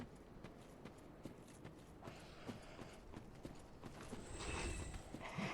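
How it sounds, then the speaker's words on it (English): In Dark Souls 3, small, hurried footsteps patter quietly behind the player in an irregular run of soft taps, with the background swelling slightly louder toward the end. "I hate hearing those little, like, pitter-patter footsteps behind me."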